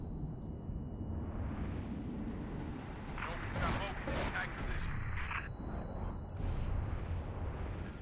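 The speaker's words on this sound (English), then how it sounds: "I think they're just shooting at me." Enemy gunfire crackles and thumps in the Halo Reach video game, with bursts of shots and blasts under a voice talking over the game sound.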